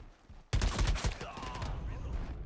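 A sniper rifle fires in the shooter game Shatterline: one sudden, loud, sharp report breaks a quiet moment, then trails into a rumbling echo.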